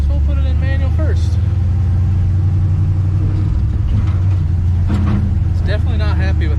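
A 1968 Chevrolet C10 pickup, back on the road after thirty years and running rough without its map, gives off a steady loud engine rumble from inside the cab. Someone talks over it now and then.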